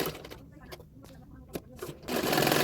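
A sewing machine stitches the hook strip of a katori blouse in short bursts of rapid needle clatter between pauses, then runs continuously near the end, with a voice speaking over part of it.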